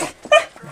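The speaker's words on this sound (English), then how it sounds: "Very excited puppy." An excited puppy lets out a short, high, tight whimper, close and loud, lasting well under a second with a softer whine trailing after it.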